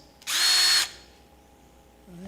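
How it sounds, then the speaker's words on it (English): A charged cordless drill boring a tiny hole whirs in one short, loud burst of under a second, then cuts off into quiet. "There's a drill on my tool belt, charged. Okay, a tiny hole should do it."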